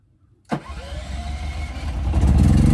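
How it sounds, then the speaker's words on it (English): A generator's engine cranks and catches after a SwitchBot presses its switch. After a sharp start, it settles into a steady, close-up running drone that slowly grows louder. "And then the generator is started."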